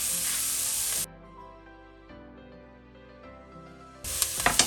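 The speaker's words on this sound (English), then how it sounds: "Then I'm gonna add in chopped mushroom." Chopped mushrooms with salt frying in a pan, a loud close sizzle that drops away for a few seconds, then returns loudly with a few sharp crackles.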